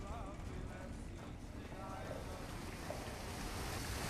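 Water splashing in the Fallout: New Vegas video game, a continuous wash of churning surf-like noise with a wind-like hiss, steady and fairly loud throughout.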